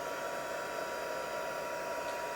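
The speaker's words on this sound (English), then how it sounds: "Now with the heat gun, it is going to dry things a little bit" A heat gun blows a steady, even hiss of hot air, drying alcohol ink on paper, with no break or change in pitch across the whole stretch.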